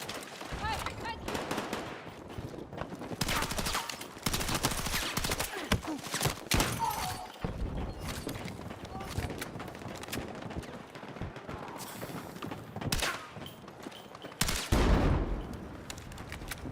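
Gunfire in Battlefield 6: rapid bursts of automatic and single shots crack near and far in irregular clusters, with several loud close shots and a voice talking over the fighting.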